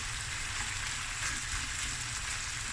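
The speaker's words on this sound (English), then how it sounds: "Okay, it's going to fry away." Lamb knuckle fries in a pot with a steady, dense sizzle and crackle, close and continuous throughout with no talking.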